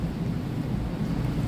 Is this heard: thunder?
yes